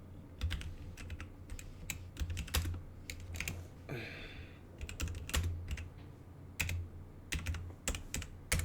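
Computer keyboard typing in irregular bursts of quick, crisp clicks. It runs across the whole stretch, with a short pause near the middle and a low steady hum underneath.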